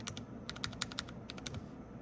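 Typing on a KBDFans TOFU65 keyboard, keys and stabilizers struck in a quick irregular patter of crisp, close clicks with brief pauses, no rattle and no voices.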